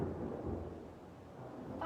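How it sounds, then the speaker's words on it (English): Thunder rolls as a low, steady rumble with no distinct crack, faint and distant. "Thunder."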